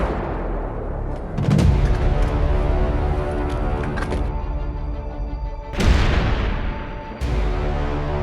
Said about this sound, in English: Постріл. Постріл.